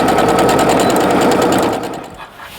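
Sewing machine running steadily while stitching a zip-top bag with many pockets, a continuous loud whirring drone that slows and stops near the end.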